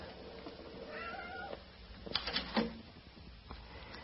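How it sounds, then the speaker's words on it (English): A calico cat meows indoors near a cellar doorway, a couple of short, fairly close cries standing out briefly over quiet room noise. "Here's a nice calico cat that greeted me the minute I came up from the cellar"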